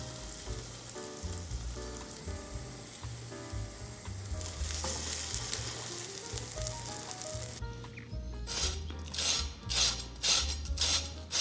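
Egg and lettuce toast frying in oil in a pan, a steady close sizzle with background music at first, then louder bursts of crackling spatter near the end.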